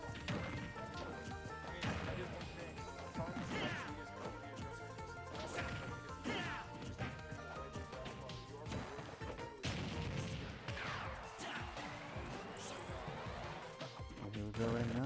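Repeated sharp smash hits and thwacks from up smash attacks in a Super Smash Bros match, landing in quick bursts over constant game music and effects, with a commentator talking throughout.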